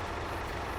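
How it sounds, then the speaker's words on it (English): A tractor engine runs in Farming Simulator 25, a brief, steady low idle rumble heard alone and close with no variation over its short span. "Let's see the tractor running for now."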